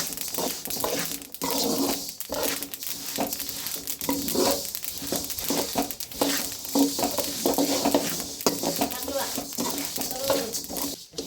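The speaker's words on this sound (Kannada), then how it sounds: "ಇಲ್ಲಿ ಎಳ್ಳುಂಡೆಗೆ ಬಿಳಿ ಎಳ್ಳನ್ನ ಹುರಿತಾ ಇದ್ದೀವಿ" White sesame seeds are dry-roasted and stirred in a pan, giving a steady dry rustling and scraping with soft crackles, fairly quiet and close, with voices talking over it.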